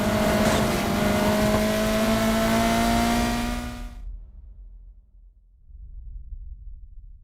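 A racing car engine in Need for Speed Heat roars loud and close with a steady high whine for about four seconds, then cuts off abruptly, leaving only a low faint rumble.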